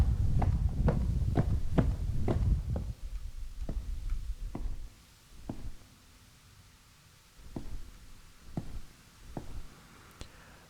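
Footsteps in the video game Dreamcore, a quick run of close, thudding steps over a rumbling bed, then slower, evenly spaced single steps continuing over a quieter ambient drone.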